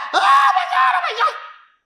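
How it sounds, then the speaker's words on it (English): A woman held hostage screams in panic, a loud, strained, wavering cry that rises and falls for nearly two seconds before trailing off, up close and alone. "The lady who was being held was screaming"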